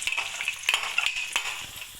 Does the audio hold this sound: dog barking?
no